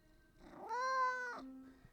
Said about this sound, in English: You have now become a content cat.